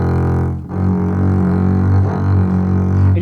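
A double bass G string buzzes and fights itself because the fingering finger is not pressed down fully. It gives a sustained, rough, close-up bowed tone with no one speaking.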